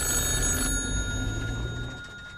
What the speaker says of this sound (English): The phone rang.